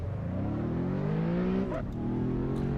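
A rear-wheel drive race car in Assetto Corsa revs its engine steadily, the pitch climbing smoothly, then dipping sharply with a gear change before pulling up again, loud and close with no talk.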